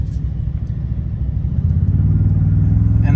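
A 2022 Toyota Tundra TRD Pro pickup accelerating, its engine a steady low rumble that swells slightly and holds louder toward the end, heard from inside the cab with no talking.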